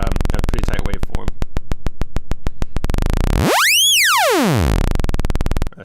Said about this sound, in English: how a sine wave, you add some harmonics, eventually we have a pretty tight waveform